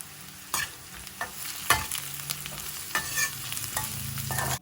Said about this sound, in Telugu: ఇలా 4 నిమిషాలు వేయించుకుంటే మనకి కాకరకాయ ఇంకాస్త వేగింది, ఆనియన్ కూడా వేగిపోయింది కదా